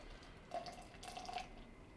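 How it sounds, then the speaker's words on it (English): Beer, the Third Eye Untapped Potential, poured from a freshly cracked can into a glass, a soft liquid gurgle and fizz rising briefly in the middle, close and fairly quiet. "We're going to go ahead and pour this in the glass."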